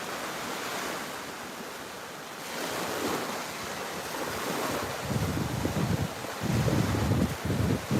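Ocean surf washing up on a busy tourist beach, with continuous wash of waves and wind buffeting the microphone, swelling louder in the last few seconds as breakers roll in nearby.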